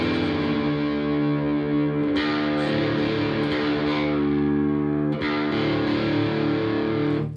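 Electric guitar with heavy distortion, low E string being detuned down to drop D, a sustained thick chord ringing continuously with the low pitch shifting, restruck a couple of times.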